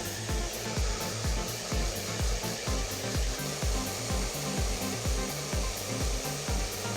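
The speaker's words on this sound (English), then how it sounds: "we're going to go ahead and blow dry" A hair dryer blows on someone's hair during an at-home styling session, a constant loud whooshing roar with a rhythmic low pulsing from brushing or moving the dryer about twice a second, no talk.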